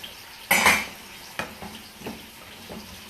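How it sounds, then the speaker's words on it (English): A spoon scraping and clinking in a pot of tea-infused rice being stirred, one louder scrape followed by a few softer taps and scuffs, close and without talking. "Now I'm going to go ahead and stir the rice a little bit more"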